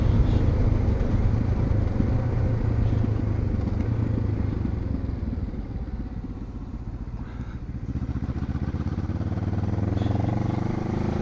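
A QJ Motor adventure motorcycle being ridden, its engine a steady, close rumble with road and wind noise that dips slightly midway and then builds again.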